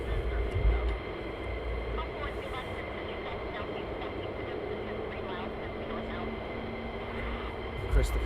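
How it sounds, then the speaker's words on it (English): A military jet taking off with afterburner at RAF Lakenheath, heard as a steady, broad, distant roar that holds for several seconds, with people talking over it. "Therefore, with Afterburner can get airborne."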